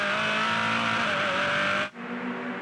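Formula Ford race cars in a 2009 Australian Formula Ford race give a loud, sustained high-pitched engine drone that cuts off abruptly near the end, then settles back to a lower hum.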